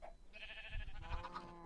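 Sheep bleating in a video game, one short quavering bleat at low level with faint background, no talk.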